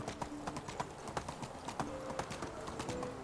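A ridden donkey's hooves clip-clop at a steady walking pace in Medieval Dynasty, light rhythmic thuds close by over a soft ambient bed.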